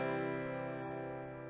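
A guitar chord rings out with its open low E string, sustained and slowly fading over a second and a half without any other sound.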